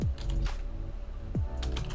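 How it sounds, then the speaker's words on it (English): Rapid clatter of typing on a computer keyboard, close and fairly loud, with a few heavier low thumps mixed in; no one speaks. "do you guys get bothered by the sound of the keyboard?"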